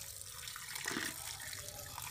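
Tap water runs steadily as river fish are washed in it, a close, continuous splashing rush with small irregular spatters and no voices.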